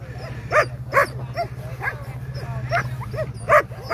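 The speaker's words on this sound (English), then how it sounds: "Beautiful looking dogs." Sled dogs yip and bark excitedly at the start of the Knik 100 sled dog race in Alaska, several sharp barks repeating over a steady low rumble, fairly close with crowd noise around.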